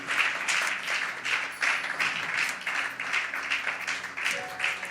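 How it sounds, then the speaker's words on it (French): A church congregation claps hands for the Lord in continuous, fairly rhythmic applause, a dense crowd sound that stays loud and steady throughout. "You are clapping hands for the Lord."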